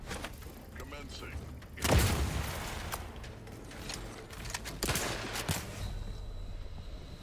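Enemy shotgun fire in The Outer Worlds 2, a few sharp blasts spaced seconds apart amid combat noise and scattered clatter, with some speech mixed in.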